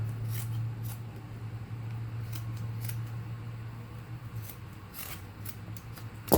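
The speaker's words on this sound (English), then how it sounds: "now I'm going to cut on the crease of the other side" Scissors snipping through fabric along a crease while making strip legs for a crafty cat toy, a series of close, crisp cutting clips in an uneven rhythm over a steady low hum.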